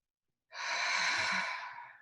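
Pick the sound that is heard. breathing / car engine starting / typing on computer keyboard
breathing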